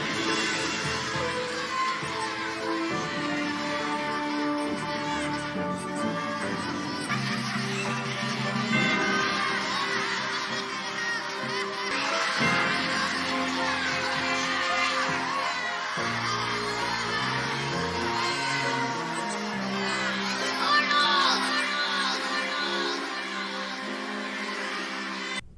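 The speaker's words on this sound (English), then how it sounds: "he's drowned out by the noise of the audience losing it" A studio audience roars with sustained laughter and cheering that swamps everything else, a dense, loud crowd din holding steady throughout with scattered whoops and shouts rising out of it.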